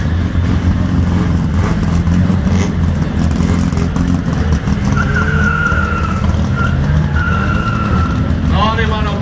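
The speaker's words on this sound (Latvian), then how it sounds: "Arī varam uzkautrināt riepas." Tires squeal as a 1950s Volga car skids during a race, long rising and falling screeches cutting over a loud, steady engine roar and road rumble, with voices talking over the noise.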